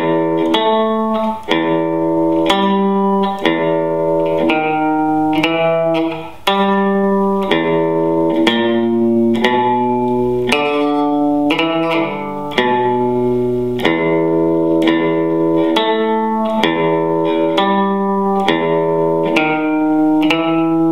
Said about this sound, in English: Every time I pick the low E string,